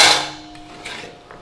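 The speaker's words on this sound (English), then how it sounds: "we're going to put our carrots in a bowl" Carrots being put into a bowl for soup, with a clattering hit at the start and then a few quieter knocks and taps fading away.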